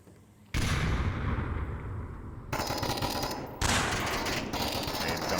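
Gunfire from the VR shooter game Onward, in a competitive league match, rattles in loud, sustained automatic bursts that overlap and shift in intensity, with brief changes in tone as different weapons fire.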